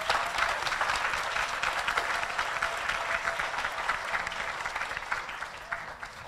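Sustained audience applause at a community anniversary celebration, steady dense clapping from a crowd welcoming a speaker to the stage, continuing at even strength throughout.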